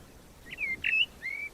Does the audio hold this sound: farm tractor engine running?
no